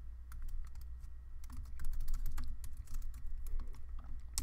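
Rapid clicking of a computer keyboard while HTML is typed, irregular bursts of close keystrokes with brief pauses, no talk.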